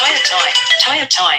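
A mobile phone ringtone plays loudly and continuously through a talk show chat, a bright melodic tone running under overlapping voices for over a second.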